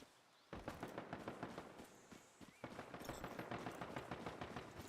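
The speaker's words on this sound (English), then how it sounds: "Somebody shooting fireworks outside of my house." Fireworks going off outside a house, heard as a rapid string of crackling pops like a string of firecrackers, muffled and somewhat distant, continuing in long rattling bursts.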